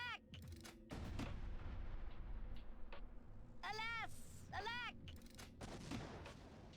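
Missiles blast in the Worms Reloaded game, a pair of loud booming explosions with sweeping whistling effects overhead, layered over a continuous noisy game backdrop.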